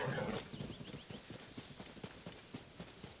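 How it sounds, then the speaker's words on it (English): Horses in the game Zelda: Tears of the Kingdom, a steady clip-clop of hooves at a moderate pace, fairly close but quiet, with a brief whinny-like sound near the start. "We got some funny horses."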